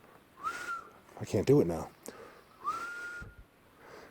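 A person whistles two rising-then-level notes, separated by a short burst of speech, fairly close and clear in a quiet setting.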